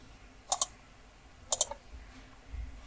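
Computer mouse clicks during setup in a Firebase console, two crisp double clicks about a second apart, close and quiet, against a faint background.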